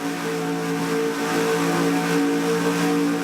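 Onboard engine roar from Sammy Davis's No. 54 ARCA Series race car at Charlotte, a loud, steady, high-revving drone sustained throughout without a break.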